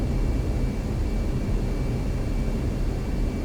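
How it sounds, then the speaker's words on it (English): F-15C jet in the DCS flight simulator landing fast on a runway, a steady loud broadband engine roar with no breaks. "Bit of a fast landing there."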